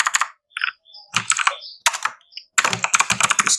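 Quick bursts of computer keyboard typing as C code is entered, clattering keystrokes close by broken by short pauses, ending in a longer continuous run.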